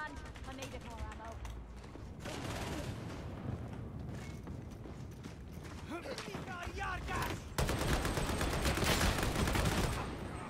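Video game gunfire rattles in dense, fairly quiet bursts beneath ongoing talk, the shots running together in rapid strings with a louder burst near the end.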